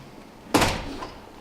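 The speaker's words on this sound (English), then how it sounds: "I'm going to close the door." A room door swings shut with a single close thud, followed by a short fading rumble in an otherwise quiet space.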